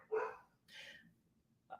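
Dogs at home give a single close bark, then a second softer bark-like burst, with a faint yelp at the end against a quiet room.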